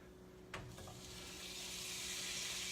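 A stick of butter dropped into a hot pan lands with a soft thud, then melts into a steady, growing sizzle that hisses on alone without talk.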